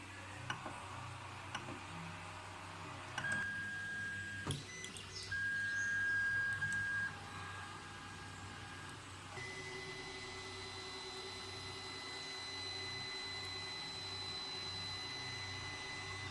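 A single-extruder 3D printer prints multicolor keychains, giving a steady mechanical whir with high motor whines and small ticking noises. The tones shift partway through, and no voices are heard.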